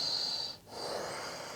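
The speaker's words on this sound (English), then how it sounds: "2 more breaths here." A yoga student holds a pose, taking slow, steady breaths: a soft, airy hiss of breathing that briefly falls away in a short pause, then resumes evenly and close by.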